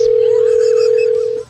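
Telephone dial tone, a loud, steady, pure hum held continuously for over a second before cutting off abruptly, heard alone.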